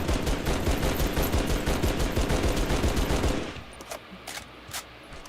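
Automatic weapon fire in the Halo shooter game: a sustained, dense, rapid stream of shots for several seconds, then cutting off to a few scattered quieter sharp reports.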